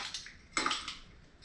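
Metal cutlery clinking and rattling as it is handled in an overfull silverware drawer, a sharp cluster of clatters after a quiet start, then a few lighter jingles fading out.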